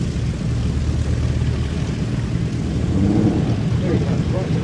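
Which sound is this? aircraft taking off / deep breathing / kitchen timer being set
aircraft taking off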